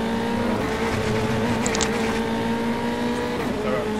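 Formula 3 race cars at Oulton Park circuit run in close company, a steady loud engine drone with a rising and falling pitch and a brief burst of high whine as they pass, no voices.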